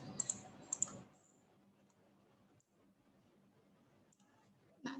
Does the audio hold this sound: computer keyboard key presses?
yes